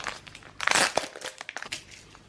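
Packaging crinkles and rustles as a parcel of nail rhinestones is torn open, close and fairly loud in a short flurry of crackly handling.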